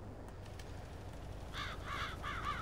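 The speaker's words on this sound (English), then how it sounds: "Get out of it, crows." Crows caw repeatedly across a seeded field, a run of harsh rasping calls at moderate distance coming in quick bursts over a low steady wind-like background.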